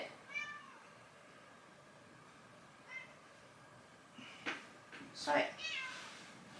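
Bella, a pet cat, meows in short cries close to the microphone, with louder, sharper calls near the end, and a voice briefly speaks between them.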